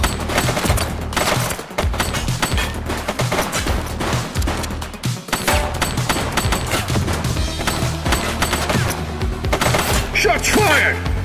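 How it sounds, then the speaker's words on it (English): Rapid, dense gunfire fills The Precinct video game's final mission, loud machine-gun bursts and sharp shots hammering almost nonstop over a driving backdrop, with voices shouting in the mix. "Shots fired!"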